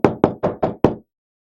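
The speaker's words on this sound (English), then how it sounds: "There was a knock at the door." Five firm knocks on a door in a quick, even rhythm, close and loud, followed by silence, with no voices.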